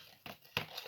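White ribbons are crumpled into a ball by hand, giving two short, close crinkling bursts of fabric and paper-like rustle in a quiet room.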